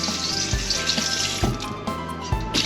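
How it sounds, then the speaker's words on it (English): Tap water runs into a bowl being rinsed in a kitchen sink, a steady splashing stream broken by a few louder knocks and clatters of the bowl. "we also need to rinse off our bowl here for a second"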